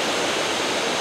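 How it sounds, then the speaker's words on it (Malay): Fast-flowing river at a campsite, a loud, dense and continuous rush of water filling the whole clip with no pauses or voices. "Sungai dia memang laju lah dekat sini"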